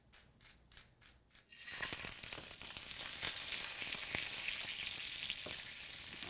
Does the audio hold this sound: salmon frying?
yes